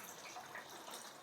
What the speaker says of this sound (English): I'm going to dump it here in the sink and try and do it while holding the camera.